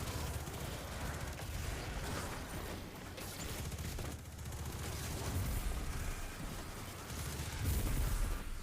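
Sustained volleys of gunfire from a video game rattle on for the whole stretch, dense and continuous with heavier booming bursts mixed in, loud and close.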